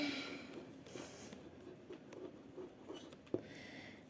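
A hand writes words on paper in soft, continuous scratching strokes, faint and close, with a small tap near the end.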